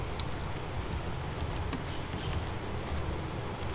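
Fingers type on a computer keyboard while a row is entered in an Excel spreadsheet, giving a steady patter of light, close key clicks with a few sharper taps over faint room noise.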